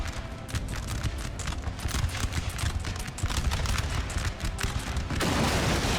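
Musket volleys crackle in the battle game Napoleon: Total War as dense, overlapping bursts of shots. The firing runs almost continuously and swells louder near the end.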